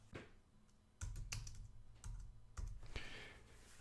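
Quiet close-up clicks of a computer keyboard as a short Linux terminal command is typed, a few separate bursts of keystrokes with brief pauses between them.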